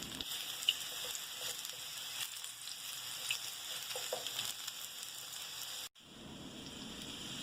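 Mushrooms fry in rendered bacon fat in a pan with a steady, fine, close sizzle and crackle. The sizzle cuts out briefly near the end and then comes back.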